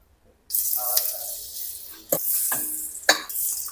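Raw chicken hitting hot oil on high heat in a home kitchen, an abrupt burst of loud sizzling that keeps hissing, with two sharper crackles as pieces land in the pan, close by and without talk.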